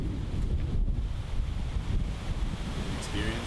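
Wind gusts buffet the microphone on an open disc golf course, a steady low roar with no other clear sounds.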